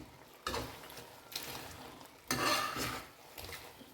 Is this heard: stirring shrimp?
yes